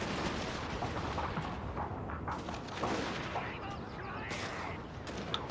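Dense rifle volleys in a Shogun 2 siege battle, with Tosa riflemen firing, crackle steadily and continuously under a busy wash of battle noise, with no clear gaps between shots.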